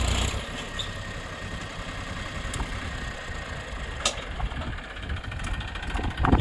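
A Massey 241 DI tractor engine idles on a farm, a steady close low rumble running throughout with a few faint clicks above it.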